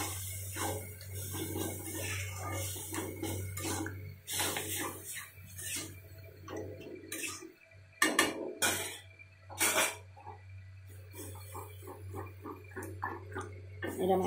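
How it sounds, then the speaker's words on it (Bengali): Curry being stirred and mashed in a pot with a wooden masher, repeated scraping and knocking strokes in an uneven rhythm, close and moderately loud, with a voice talking over it. "এরকম একটা ঘাঁটুনি ডাবু দিয়ে যদি এরকম নাড়া হয় তরকাটা বেশ ভালো ম্যাশ হয়ে পেস্ট হয়ে যাবে।"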